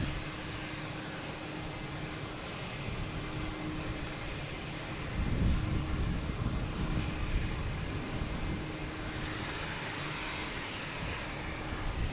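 An airplane engine roars steadily at Boston Logan Airport, a broad, continuous rumble at moderate distance that swells a little midway and holds for the whole stretch.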